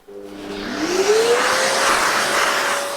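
A Festool CT26 dust extractor vacuuming through a brush fitted to a 27mm hose: a steady, loud suction roar that rises in pitch as the motor spins up, then holds constant with a whistling airflow tone.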